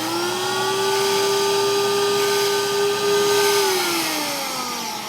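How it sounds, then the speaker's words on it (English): A Record Doctor vinyl record cleaning vacuum machine runs with a loud steady whining hum and hiss that holds one pitch, then drops lower near the end as the motor slows, with no talk. "manually spin this on the record doctor to kind of sop up the edge of the record"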